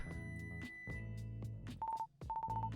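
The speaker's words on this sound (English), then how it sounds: "Oh good, that's my timer" A timer gives short electronic beeps, two brief tonal bursts near the end following tone-dialing-like notes, clear and close.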